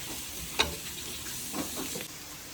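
Onions and green chillies sautéing in a pan for Kerala-style beef dry fry, a constant close sizzle with a couple of brief stirring scrapes.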